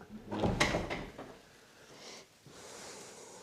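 A spooky wooden bedroom door in a rural Scottish cottage swings shut with a close creak and bump, followed by a quieter rustle and a faint second knock.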